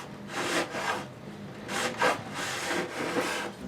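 Hand file rasping along the edge of a ten-string classical guitar, several steady back-and-forth wood-filing strokes, close and clear with no talking.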